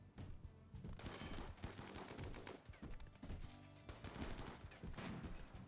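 Gunfire from a raid defense in the game Rimworld, dense bursts of rapid shots and crackling volleys piling over one another, continuous and fairly busy, heard quietly.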